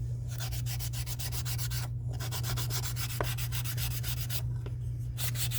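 A handmade bracelet display is sanded down by hand, rapid back-and-forth rasping strokes repeating steadily and close, with a couple of short pauses between runs.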